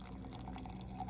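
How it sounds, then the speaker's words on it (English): Water pours in a brief, steady stream into a tea kettle, a soft continuous splashing at close range that lasts about a second. "Let's try to get the water in there."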